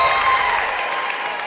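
A crowd at a Beth Haven versus Chapmanville basketball game claps and cheers in a dense, steady wash of applause that fades slightly toward the end.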